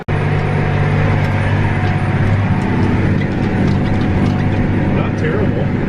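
A Case harvester runs loud and close, chopping up stalks in a dense, continuous mechanical clatter and rattle with a low engine rumble underneath, no voices standing out.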